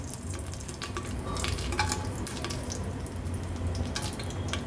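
Whole spices such as bay leaf and chili sizzle in a spoonful of hot ghee in a pressure cooker for masale bhat, a steady close crackling hiss with scattered sharp pops.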